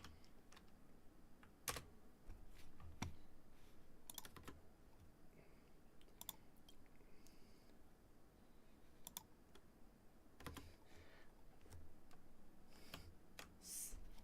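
Soft, scattered clicks of keys being typed on a computer keyboard, irregular taps and brief bursts at low volume over a quiet room hiss.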